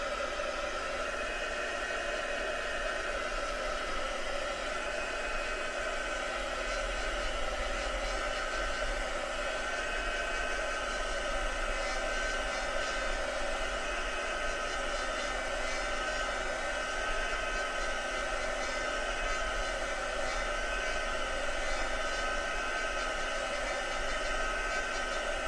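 A heat tool blowing steadily as it dries an ink-marked craft piece, a loud continuous whirring hiss close by that holds unchanged without pauses and with no voices.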